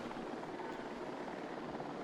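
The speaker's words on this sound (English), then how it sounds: "they're going to wait until that helicopter drops it off" A helicopter in a desert ecosystem video game drones steadily as it flies in to drop off supplies, a faint, even rotor whir with no other sounds.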